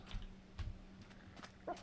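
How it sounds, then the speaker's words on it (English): A dog in the video game Minecraft whimpers softly, with a few short faint whines in quick succession over a quiet background hum. "that's one of the dogs that needs a name"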